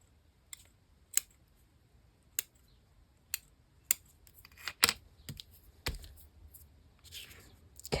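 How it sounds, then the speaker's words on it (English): Scissors snipping paper in a crafting session, a series of sharp separate cuts spaced about a second apart, close and crisp, followed by a busier run of snips and rustling paper, no talk. "Cut some more"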